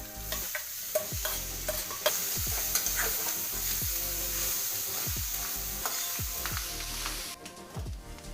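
Cooked clam meat sizzles in a pan of fried masala while a spoon scrapes and stirs it at a steady rhythm, with repeated sharp clinks over a constant frying hiss and no talking.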